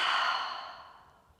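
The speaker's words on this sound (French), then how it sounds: "Tu vas inspirer par le nez et expirer par la bouche." A single long breath pushed out through the mouth during a yoga session, a close airy whoosh that starts strong and fades away over about a second, with no talking.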